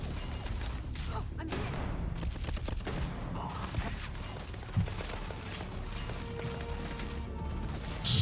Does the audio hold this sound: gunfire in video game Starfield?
yes